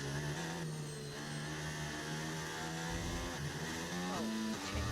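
A racing car engine in a video game at a Chinese track revs steadily through gear changes, its pitch rising and dropping at each shift, continuous and fairly faint, with no voices.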